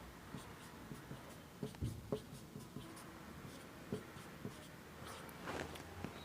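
Chalk or marker marks being written onto a classroom board for a place value chart, heard as faint, irregular scratchy taps and strokes close by, with quiet room noise between them and no talk.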